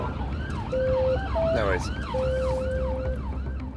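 An ambulance siren wails steadily in a rising and falling pattern over low road rumble, fairly close and loud throughout, with a brief second siren tone overlapping midway and a short spoken reply.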